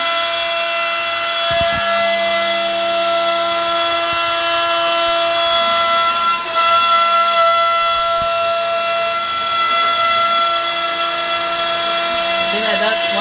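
A carving machine routing letters into a wooden board gives a steady, loud whine with sustained tonal hum and occasional deeper cutting bursts, continuous across the stretch with no talk.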